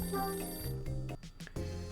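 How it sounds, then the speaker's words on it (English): A telephone rings in the mystery adventure game Hotel Dusk: Room 215, a tonal electronic ring with repeated bursts over soft game music, fairly quiet and close. "The phone's ringing."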